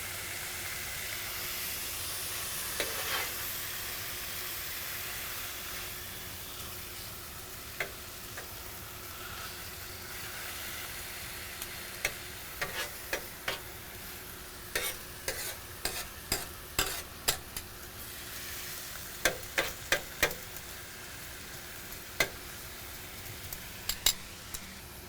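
Brisket and vegetables sizzle steadily on a Pit Boss griddle, a continuous hiss with scattered sharp scraping clicks of a spatula growing more frequent toward the end.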